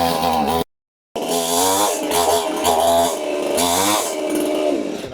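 A tree-cutting chainsaw machine runs loudly and close, its harsh buzzing engine note rising and falling through revs, with one brief silent gap early on.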